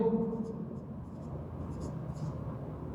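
Chalk or marker writing on a board during a class 10 math lesson on real numbers, soft scratchy strokes under a teacher's steady speech.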